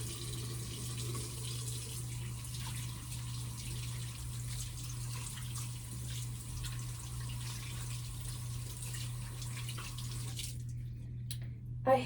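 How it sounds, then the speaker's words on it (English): A tap runs steadily at a bathroom sink while makeup is washed off hands, an even constant hiss that stops near the end. "I hate if I want to wash makeup off of my hands, it's like I need a makeup wipe because it's still on my hands"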